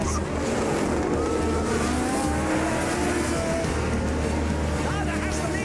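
Formula 1 race cars from the 1970s, with the McLaren of Hunt and Lauda's car, roar steadily together through a dense continuous engine wash with water-like hiss, loud and sustained throughout, under a film soundtrack.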